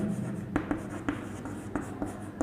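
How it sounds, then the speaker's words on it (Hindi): Chalk or marker scratches across a classroom board during a physics lesson, a steady scraping with regular sharp taps as strokes start, faint and close, without talk. "इसको मैं लिख देता हूँ यहाँ पे"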